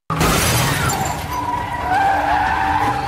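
A stolen car skids and speeds away at night, tires screeching over a roaring engine, loud and close for about three seconds with no talk.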